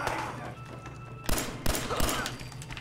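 Gunfire in the video game Fallout 4: a few sharp, loud shots with irregular spacing, one after another over a low steady background hum.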